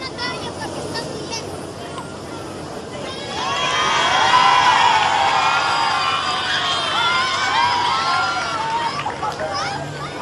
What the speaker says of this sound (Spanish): Francisco, gracias por la visita, le gritan los niños.